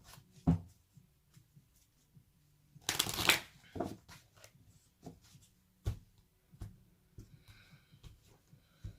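Romance angel oracle cards being shuffled in short papery riffles and slaps, with a dense burst of shuffling midway among scattered soft taps, close and fairly quiet with no talking.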